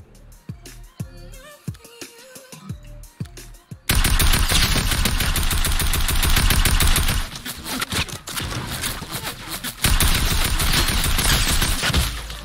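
Rapid automatic gunfire in the shooter game Fortnite, loud sustained bursts that run for several seconds, break briefly and resume, preceded by scattered single shots and a short stretch of quieter game noise.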